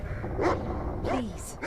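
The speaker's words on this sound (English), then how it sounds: "Please, stop your barking. You know how much the twins hate that barking." A dog in the video game The Cave barks in two short yips, then a third sound follows over a steady background hum.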